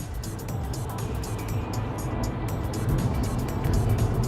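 A car driving along a road, heard from inside as a steady low engine and road rumble with faint tire hiss, continuous and moderately quiet throughout.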